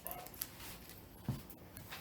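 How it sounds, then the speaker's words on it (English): Ruby the dog, indoors in a family home, gives a faint short whimper or yip, a couple of soft brief sounds under quiet room noise. "Ruby the dog"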